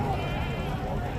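A goat bleats at a crowded livestock market, a drawn-out wavering cry close by, with people talking over it.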